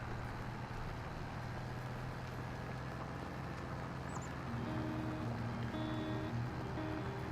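Articulated tractor in Farming Simulator 25 pulling a plow across a field, a steady low engine drone with faint tonal whine running continuously throughout, no talk.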